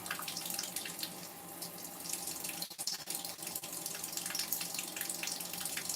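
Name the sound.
running water from a tap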